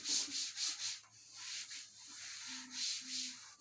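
Rhythmic rubbing strokes of a duster erasing writing from a classroom board, several back-and-forth passes close by, with no talk.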